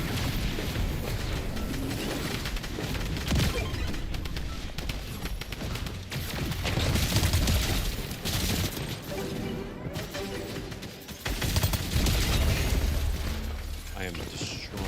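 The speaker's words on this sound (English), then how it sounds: "I am destroying the minigun right now" A minigun firing in Fortnite, with bursts of rapid gunfire and booming hits layered with game sounds, under a voice talking over much of it.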